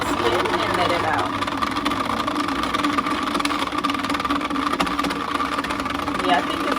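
A mini washing machine spins mink lashes dry, giving a steady droning hum that runs unbroken throughout while a person talks over it.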